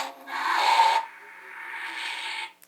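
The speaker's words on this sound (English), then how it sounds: "So you can hear it powered down." A Mattel Back to the Future II hoverboard prop replica powers down with a loud airy whoosh that cuts off after about a second, then trails into a quieter, softer hiss before stopping.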